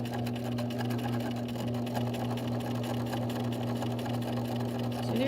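A sewing machine stitches fabric in a steady, continuous run, its motor hum droning evenly and close throughout, with no talking.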